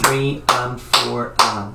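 Four sharp hand claps land in a steady eighth-note rhythm, close and loud, with a voice counting along over them.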